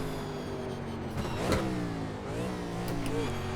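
A 1987 NASCAR Legends car in the iRacing game at Watkins Glen revs hard with rising and falling engine pitch, a sharp blip and downshift midway, loud and steady throughout.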